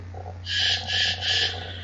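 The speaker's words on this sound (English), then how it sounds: "There's Bill's birdies squawking in the background." Pet birds kept indoors squawk and screech in three loud, drawn-out bursts over a steady low electrical hum, with fainter chirps between them.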